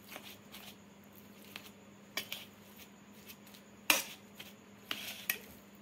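Soft, scattered clinks and scrapes as roasted almonds are stirred into besan halwa in a pan, with sparse spoon-on-metal taps standing out over a quiet background.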